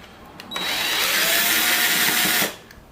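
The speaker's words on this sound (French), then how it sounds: "Moi j'aime bien utiliser une visseuse pour dévisser." A cordless screwdriver whirs steadily for about two seconds while backing out fairing screws on a 2012 Honda CBR 250 R motorcycle. The motor sits close, loud and continuous, starting and stopping abruptly with no talk over it.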